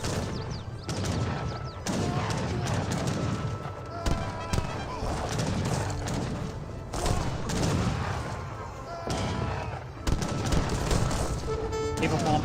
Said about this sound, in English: Light cannons are just ripping apart the skirmishers.